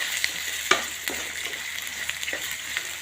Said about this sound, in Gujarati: તેલના અંદર સરસ મજાના ફ્રાય કરી દેવાના છે. મસ્ત મજાનું હલાવતું રહેવાનું.